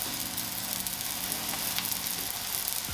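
Vegan burger patties for a homemade McDonald's McPlant-style burger sizzle steadily in a hot pan, a constant close crackling hiss with no talk.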